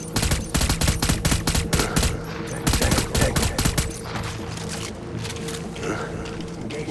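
Rapid bursts of gunfire in the video game Death Stranding Director's Cut, loud, close and dense for about four seconds, then easing into scattered shots under a low rumble.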